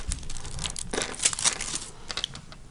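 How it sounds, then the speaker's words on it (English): A foil sheet smoothed down over a Christmas card and peeled away, giving close, continuous crinkling and crackling with a few sharper rustling bursts, no voices. "lay your foil on top, smooth it down and whip it off"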